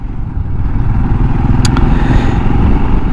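A Royal Enfield Himalayan motorcycle engine running close by with a loud, steady, throaty rumble, a brief metallic clatter or click near the middle, and no talk over it.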